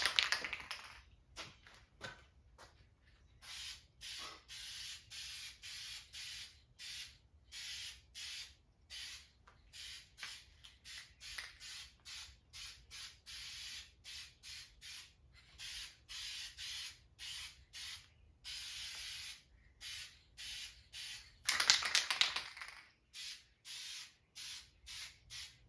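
Primer sprayed from a can onto a farm truck in repeated short hissing bursts, close and crisp, separated by brief pauses, with a louder, longer spray near the end.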